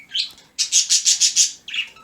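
Pet birds, around ten years old, chirp indoors in a quick series of bright, rhythmic tweets, about six evenly spaced calls framed by shorter chirps, close and fairly loud.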